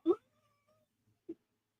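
A house cat gives a clear, close meow, then a shorter second one about a second later, separated by near silence and a faint soft tone.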